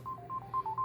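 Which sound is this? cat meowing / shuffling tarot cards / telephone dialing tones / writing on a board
telephone dialing tones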